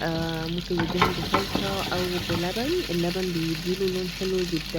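Stuffed mumbar sausage frying in a pan gives a continuous close sizzle and crackle while someone talks over it throughout.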